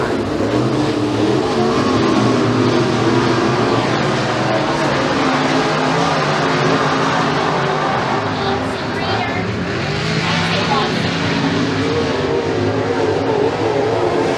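Pro Mod race cars on a dirt oval at McKean County Raceway in Pennsylvania, a steady loud engine roar from a pack of cars accelerating through the turns, with an announcer talking over it throughout.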